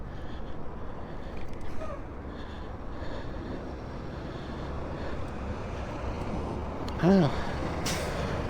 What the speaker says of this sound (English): There's a lot of traffic today.